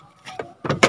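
Glove compartment of a Honda Mobilio being opened from the passenger side: a soft latch click followed by two sharper plastic clacks and a thud as the lid drops open, close and alone.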